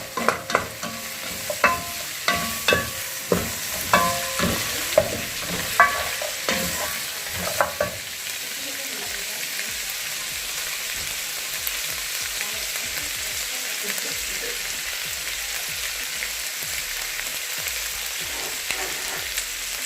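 Onions fry in a pan for a goat wet fry, a steady sizzle under sharp, rhythmic scrapes of a stirring spoon that come close together at first, then taper off as the frying continues alone.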